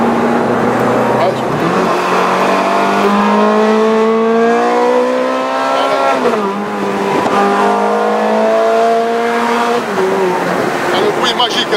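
A Ferrari F430 Scuderia's engine revs hard through repeated accelerations heard from the cabin, its loud rising howl climbing steadily and dropping briefly at each gear change, continuous for the whole stretch.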